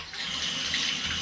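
A high-flow shower gushes steadily, a dense continuous hiss of running water with no pauses or voices.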